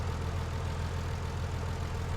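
A tractor engine in Farming Simulator 19 runs at a steady, low, throbbing idle, close and constant, with no talking.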